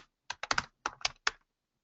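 Quick, crisp keystrokes on a computer keyboard come in small irregular clusters of clicks, close and fairly quiet, with a short pause in the middle and silence at the end.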